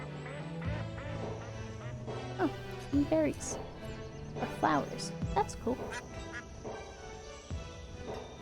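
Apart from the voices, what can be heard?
ducks quacking in video game Banished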